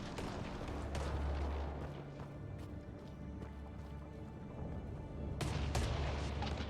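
Gunfire in the Mass Effect Andromeda video game: dense, continuous booming bursts with a low rumble throughout, swelling louder near the end, with no voices over it.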